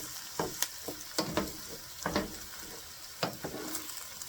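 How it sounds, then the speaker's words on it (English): Eggs are stirred into sizzling chicken fried rice in a pan, with a soft steady fry and a series of quick scraping stirs at an irregular rhythm, fairly quiet and close. "so now we're going to mix all that together. Kind of get those eggs mixed in with it."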